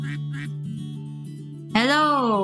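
A duck in the Pre-Odyssey video game lets out a loud, drawn-out quack that rises and falls, following a low humming tone with faint background chatter.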